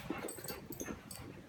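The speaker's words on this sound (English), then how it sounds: "The dogs have gone crazy." Dogs whimper and yip excitedly in short, agitated bursts, close by and fairly faint, with no voices over them.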